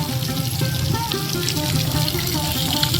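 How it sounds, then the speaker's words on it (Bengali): Steady splashing of fountain water at a Swaminarayan temple, a continuous close wash of falling and running water with no talk over it. "ফোয়ারাটা দেখো।"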